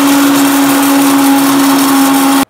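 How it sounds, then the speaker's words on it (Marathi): Electric grinder whirring steadily as it grinds cardamom pods for rava laddoo, a loud continuous motor whine that runs for over two seconds and then cuts off abruptly. "तर आपण पहिला वेलची वाटून घेऊया."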